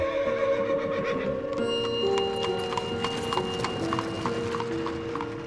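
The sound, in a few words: horse-drawn andong carriage hooves clip-clopping, story sound effect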